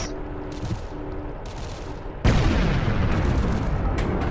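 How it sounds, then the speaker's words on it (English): An artillery shell fires down a street in a war video game, a sudden loud boom that cuts through lighter gunfire crackle and rolls on as a sustained rumbling blast. "We'll fire a shell down the street"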